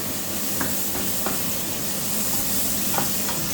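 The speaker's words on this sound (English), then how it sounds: "I'm just gonna add a bit of normal oil in there because this mushroom needs to be fried." Mushroom frying in oil in a pan for a vegetable and prawn stir fry, a steady dense sizzle with a few soft stirring clicks, close and fairly loud, with no talking.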